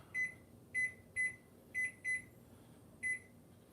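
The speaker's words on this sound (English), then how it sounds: "So we'll set the timer for 15." An oven timer being set for 15 minutes in a home kitchen gives six short, clear electronic beeps at uneven intervals, close and moderately loud over faint room hum.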